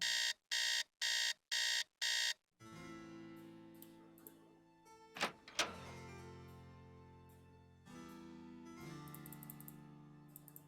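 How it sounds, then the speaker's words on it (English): An alarm clock in a Nancy Drew game rings first in four sharp, loud electronic beeps, then gives way to a ringing, chiming mechanical tone with clanks, all without any speech. "so I'm gonna have to set the alarm"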